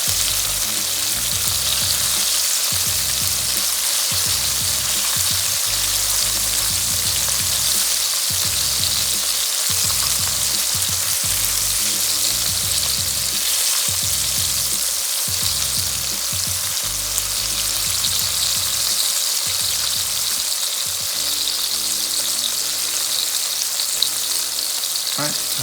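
Shrimp for honey walnut shrimp fry in hot oil, turning crispy and golden, with a dense, steady sizzle running loud and close the whole time and no talking over it.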